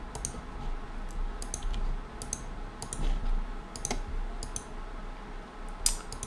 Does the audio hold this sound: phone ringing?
no